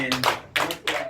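Church congregation clapping in praise of God at a women's gathering, three quick bursts of hands close by, each roughly a quarter second, with faint voices underneath.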